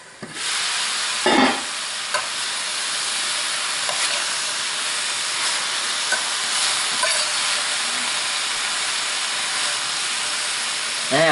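Cabbage and beef stir fry cooks covered in an oiled pan, a steady close hiss of frying and steam throughout, with a couple of brief clunks near the start.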